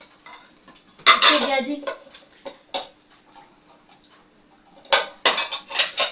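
Steel dishes and cutlery clink and clatter in short bursts as used kitchen utensils are gathered up after a meal, nearby, with quiet pauses between and someone speaking briefly.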